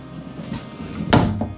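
A sliding barn door inside a fifth wheel RV rolls and thuds shut, one brief knock near the end after low rumbling movement, close by.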